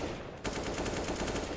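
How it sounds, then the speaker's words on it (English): Rapid automatic gunfire fired through walls in CS:GO, a sudden burst of evenly spaced shots that starts abruptly and keeps up loud and close, under steady background game noise. "Wall bangs for days."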